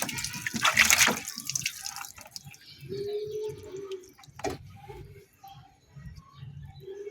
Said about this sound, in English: So this is just normal water, but as long as it dries, there is no problem.